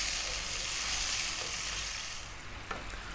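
A garlic chicken sauce mixture sizzles on high heat, a loud, dense, steady hiss that eases slightly near the end, with no talk.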